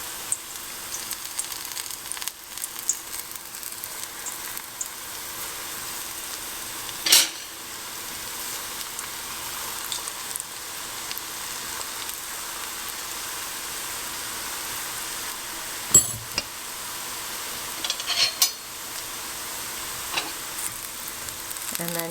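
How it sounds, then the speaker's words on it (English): Small balls of fenugreek (methi) batter for Gujarati gota fritters fry in hot oil with a steady, soft sizzle and crackle, with a few sharper pops and clinks of a fork against the pan. "take a little bit of the batter and just drop really small balls in, because they will expand"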